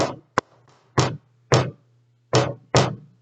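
A voice imitates knocking on a door, giving six sharp separate raps spaced unevenly over a few seconds, close and loud against a steady low hum.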